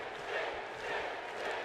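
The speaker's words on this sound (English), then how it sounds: "the crowd eagerly anticipating, already chanting in support of Sting" Wrestling arena crowd at a Sting versus Undertaker match chanting in support of Sting, a dense, steady roar of many voices with rhythmic swells, loud and continuous throughout.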